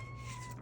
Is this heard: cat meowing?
yes